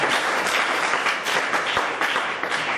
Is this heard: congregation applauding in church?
yes